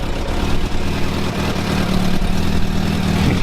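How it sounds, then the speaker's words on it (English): Motorbike engine running steadily just after a cold start, a loud, close, rumbling idle with a continuous low throb that holds for the whole stretch. "You're probably not going to be able to hear me now because the bike is so friggin' loud"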